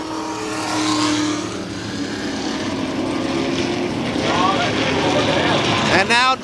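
Race cars at Kil Kare Speedway roar past in a steady, loud engine drone that rises as cars close in and sweeps by near the end, with a commentator talking over the noise.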